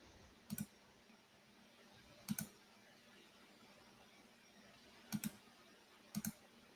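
Computer mouse clicks on a drop-down menu, four faint, quick double clicks spaced irregularly across a quiet room background.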